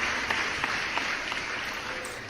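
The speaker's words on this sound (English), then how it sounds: "Let me give you an applause." Dense applause sound effect plays on a livestream, a steady, full wash of clapping with no pauses or rise and fall across the short stretch.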